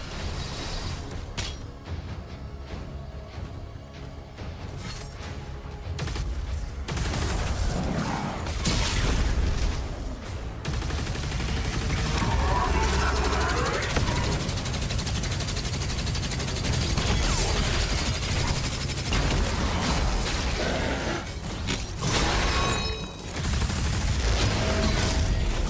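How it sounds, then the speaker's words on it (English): Gunfire from unseen enemies in the video game Doom, a sustained loud barrage of shots and mechanical clatter running through the whole stretch, with bursts of heavier booms. "I can't even see what's shooting me from over there."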